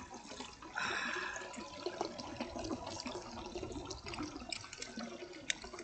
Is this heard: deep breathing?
no